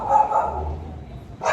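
A dog barks in a few short bursts close by at a service shop during a vehicle's first preventive maintenance check, with a brief yip at the end and faint background talk.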